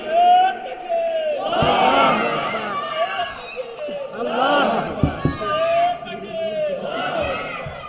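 A large outdoor religious rally crowd in Bogura roars a takbir chant in response, loud massed voices surging in repeated waves, alternating with a lead voice calling out.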